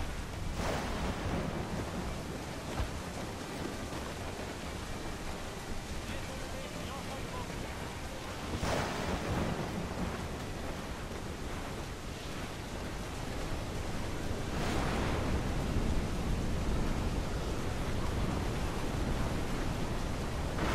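A waterspout roaring at sea in Assassin's Creed IV Black Flag, a continuous broad wind-and-surf roar that swells in periodic gusts, with voices calling faintly underneath.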